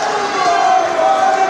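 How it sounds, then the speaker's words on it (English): A wrestling arena crowd reacts to Charlie Haas with a steady, dense murmur and jeering, a continuous wash of voices without distinct peaks. "the crowd showing what they think of him there"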